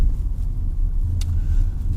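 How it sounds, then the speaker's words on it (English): A car held in third gear at around 20 mph on a Halifax residential road, a steady low engine rumble and road noise close by, with no talk over it. "This car really won't do 20 very comfortably in 4th gear, so we're down to 3rd gear"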